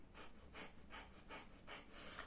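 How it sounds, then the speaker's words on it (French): Kapalabhati breath of fire: five sharp, forced nasal exhalations in a steady rhythm, about two per second, close and fairly quiet, with no talking. "C'est la respiration où je viens souffler avec le nez"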